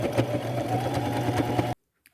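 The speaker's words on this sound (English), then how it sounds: "I am going to straight stitch this with a 1/2 inch seam allowance, and I will double stitch it for durability." A straight-stitching sewing machine sews a half-inch seam on fabric for an upcycled boho crossbody bag, whirring loud and close in a steady run before stopping abruptly, followed by near silence.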